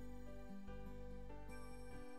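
A cellphone ringtone plays a repeating electronic melody, faint and steady, alone with no voices.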